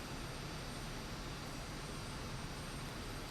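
A steady, unbroken jet engine drone from an Aermacchi MB-339 in Microsoft Flight Simulator 2024, a dense broadband roar holding at constant level throughout with no voices.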